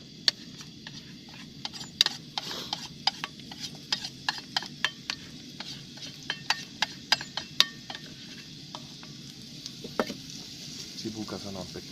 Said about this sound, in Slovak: No, olej nám začína syčať pekne. Ako prvé tam dáme cibulu.